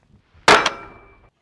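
A Holosun 507comp red dot sight strikes a metal plate rack in a single sharp metallic clang, ringing briefly before decaying into quiet.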